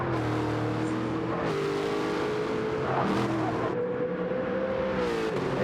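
Race cars in a racing video game at Mount Panorama, braking hard at the end of Conrod Straight into the chase, engines loud and continuous with pitch shifts as the revs drop under heavy braking.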